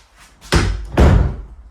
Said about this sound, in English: We can close this door.